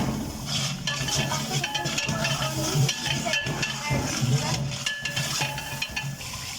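Boneless chicken frying and being stirred in a pot with turmeric and salt, a steady sizzle with utensil scrapes and light clinks of metal throughout, close and continuous.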